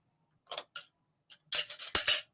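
Whiskey stones clink into glasses, a few light separate taps followed by a brighter cluster of clattering stone-on-glass knocks, close and fairly quiet with no talk.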